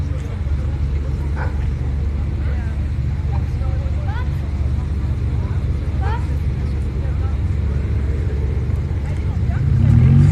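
Cars pulling away from a car meet at Saint-Alban-du-Rhône, a steady low engine rumble from departing vehicles, swelling louder at the very end as one passes close.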